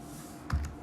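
Code typed on a computer keyboard, a couple of quick close key taps in a quiet room, with no voices.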